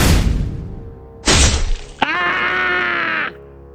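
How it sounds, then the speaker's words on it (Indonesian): A sword slash shatters black armor in two: a heavy crashing burst, then a sharp crack and a bright ringing metallic smash that sustains briefly before cutting off, loud and close with no voices. "Satu tebasan lurus ke arah dada penjaga itu, dan membuat armor hitamnya pecah menjadi dua"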